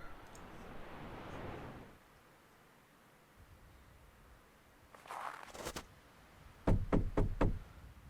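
Knocking on a door in the point-and-click game The Last Door, set at the Wright Manor: two separate bursts of rapid, sharp knocks, loud and close, with a hissing ambient rush in between.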